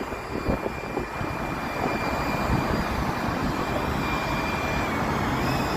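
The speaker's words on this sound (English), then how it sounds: "Look at that plane flying over there." An airplane flying over Lake Shore Drive in Chicago on a November morning, a steady broad engine roar mixed with traffic hum, moderately loud and constant throughout.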